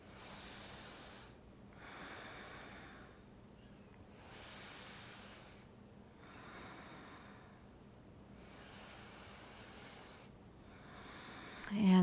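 Slow, steady breathing through a held yoga twist during a morning practice, with long airy inhales and exhales in an even rhythm, close and soft, followed by a brief rustle at the end.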